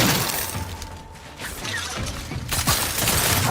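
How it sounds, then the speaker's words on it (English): Machine pistol fire in a video game, a dense crackling burst of rapid shots with sharp transients and clattering mechanical noise, loud and close, continuing through most of the stretch with a brief dip partway. "Machine pistol, nice."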